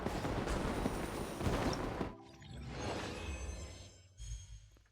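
Fireworks burst in Genshin Impact during the Lantern Rite festival, a dense crackling barrage of booms that drops off midway before a fainter second round of pops and thuds.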